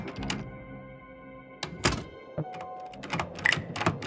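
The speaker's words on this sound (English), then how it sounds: "The door to the lounge." Door opening in the video game Frequency Missing, several sharp thunks and clacks with brief resonant tones, spaced irregularly between short silences.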